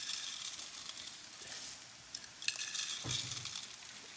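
Dry farfel tumbling into a pan of softened onions and celery while cooking for Passover, a steady sizzle with faint clinks and a scraping stir midway, close and fairly quiet.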